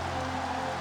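Rain falls steadily during a college football video game matchup between the LSU Tigers and the UCLA Bruins, a brief, even hiss with no talk over it.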